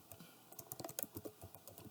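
Keys clattering on a computer keyboard while filling in an invoice in Excel: a quick irregular run of close, crisp taps and clicks in a quiet room.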